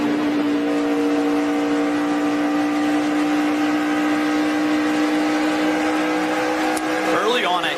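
Stock cars racing side by side at the 2012 Kentucky 300, a loud sustained engine whine and roar that stays steady throughout, with a broadcast commentator talking over it.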